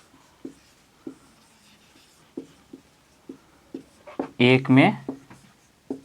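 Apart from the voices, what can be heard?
writing on paper during a math lesson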